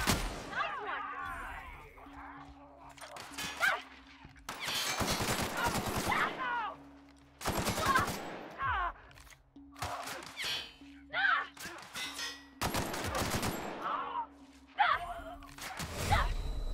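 Bursts of gunfire crackle in The Outer Worlds, loud rapid volleys arriving in clusters between quieter gaps, with breathy vocal sounds mixed in.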